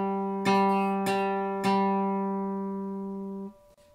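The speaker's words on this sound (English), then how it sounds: "I'm going to play the note G, the open G, you'll hear it ring." An open G string on a guitar is picked three times with a plectrum rest stroke, each note ringing clearly and sustaining before fading, close and alone.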